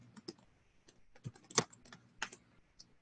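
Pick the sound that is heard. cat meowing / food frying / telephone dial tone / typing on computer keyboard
typing on computer keyboard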